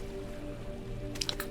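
Shallow water splashes in the horror game Amnesia: The Dark Descent, a couple of quick wet slaps near the end over a low, humming ambient background.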